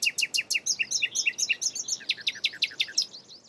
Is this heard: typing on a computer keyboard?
no